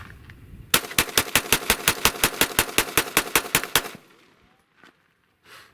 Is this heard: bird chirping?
no